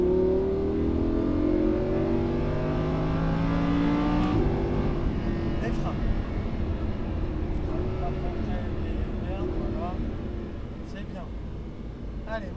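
A Lamborghini Huracán on a race track at Fay-de-Bretagne accelerates hard out of a corner, its engine note rising steadily and loudly through the gears with a brief shift midway, while a person talks over it.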